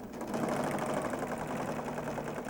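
A serger sewing machine stitches through quilt fabric in a steady, fast mechanical whir with a rapid rhythmic clatter, running continuously up close with no voices.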